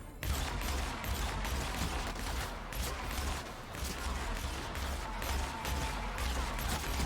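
Sustained rapid gunfire in The Outer Worlds, a dense, continuous clatter of shots and impacts running loud throughout with no pauses.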